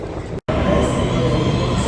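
Train at Circular Quay station in Sydney, heard as a loud, steady rumble of rail noise that fills the short moment, broken once by a brief cut, with faint voices mixed into the background.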